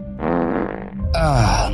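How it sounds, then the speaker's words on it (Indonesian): A loud, close fart with a buzzing, sputtering quality, in two bursts, the second rougher and longer than the first, with no other sounds. "Kalau belum, kentut dulu lah."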